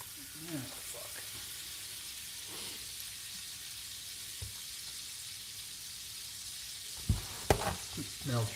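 Butter melts in a pan with a steady, quiet sizzle and hiss. A few clattering knocks near the end rise above the frying, and a voice is heard briefly early on.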